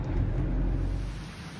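A violent thunderstorm in Ottawa gives a deep, loud rumble of thunder with rain noise underneath. The roar is heaviest at first and slowly fades over under two seconds.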